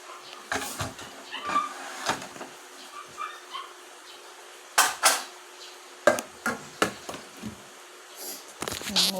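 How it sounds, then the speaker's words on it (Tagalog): Plates, pots and utensils clatter and clink as dishes are washed by hand, in irregular bursts of close, sharp knocks separated by brief quiet moments. "Hugas tag plato guys."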